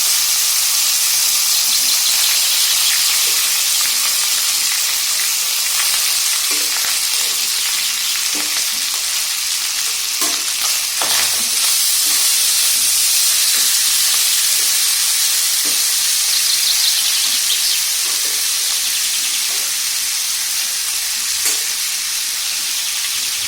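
Cooked rice stir-fried with golden garlic in a pan gives a loud, steady sizzle and frying hiss throughout, with occasional scraping stir clicks and no voices.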